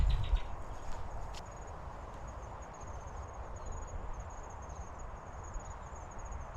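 Chicks chirping in a hawk nest outdoors: a steady high, thin twittering runs throughout, faint and continuous, over a low rumbling background.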